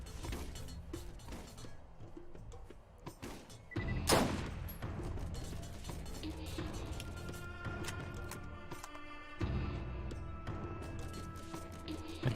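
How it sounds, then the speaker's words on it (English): Rapid gunfire from the shooter game Borderlands crackles in dense bursts of sharp shots with a heavy blast around the middle, continuing steadily with faint game sounds beneath and no speech. "I hear the bullets"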